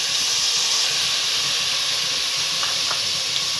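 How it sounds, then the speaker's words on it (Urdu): Masala of tomatoes, green chillies and ground coriander frying in a hot pan, giving a steady loud sizzle and hiss that runs unbroken throughout. "مسالہ اچھے سے بھونیں گے۔"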